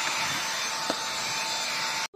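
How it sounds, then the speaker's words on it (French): A cordless vacuum cleaner runs with a steady, fairly quiet whirring hum. It stays even throughout, then cuts out abruptly at the end. "mon aspirateur a encore un peu de batterie"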